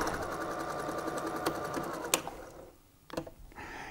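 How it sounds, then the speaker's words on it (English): A sewing machine runs steadily as it top-stitches the elastic casing closed on pajama pants, then briefly stops and restarts in short bursts. "now I'm just going to finish this stitching by machine"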